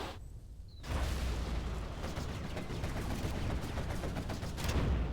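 Rapid gunfire and bursts from veteran units in the real-time strategy game Command & Conquer Generals Zero Hour, a dense, continuous crackle of shots rolling on after a brief quiet start, with no talking.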